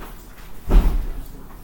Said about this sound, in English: I'm going to close this door